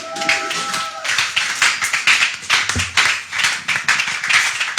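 A congregation in a French-speaking church bursts into sustained, loud applause, dense rapid clapping that fills the room for several seconds with no talking over it.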